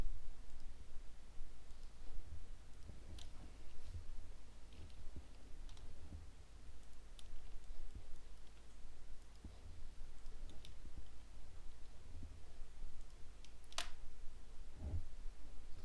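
Scattered keyboard key presses in a design prototyping session, faint isolated clicks spaced seconds apart over a low steady hum, with one sharper tap near the end.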